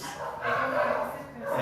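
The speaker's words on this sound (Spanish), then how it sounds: "el concierto de los perritos" A group of dogs barking and yipping at a distance, muffled overlapping barks rising and falling over about a second and a half.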